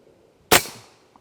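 A single 8.6 Blackout rifle shot with a 280-grain MSC Recce bullet, fired through a Discreet Ballistics suppressor into a panel: one sharp, loud crack with a short decaying tail and a faint tick just after.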